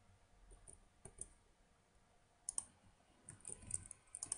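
Someone typing a password on a computer keyboard: sparse, quiet, crisp clicks come in small irregular clusters, growing denser toward the end, with no talking.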